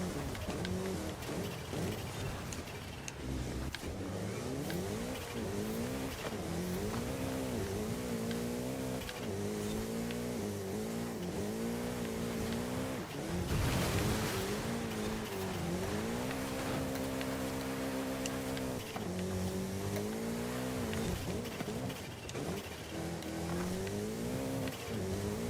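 Race car engines rev and shift through gears in a 5-lap race in Forza Horizon 5, with repeated rising whines, a loud whooshing swell midway, and steady close engine drone throughout.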